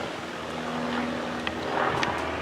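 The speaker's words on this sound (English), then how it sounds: "Another plane." A propeller airplane drones steadily overhead outdoors on a walk, a broad continuous hum that swells slightly toward the end, with faint wind and no talking.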